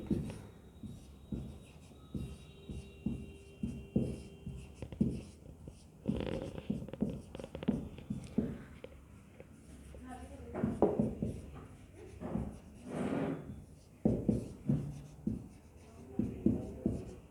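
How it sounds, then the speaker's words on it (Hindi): Chalk or marker scratching and tapping in short strokes while writing on a board in a biology lecture room, steady and close, with faint room noise and shuffling around it. "मैं एक बार लिख भी लेती हूँ।"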